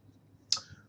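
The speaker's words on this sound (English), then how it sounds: "So what I gotta do now is use an on-screen keyboard" A single sharp mouse click while typing on an on-screen keyboard, close and brief over a quiet low hum.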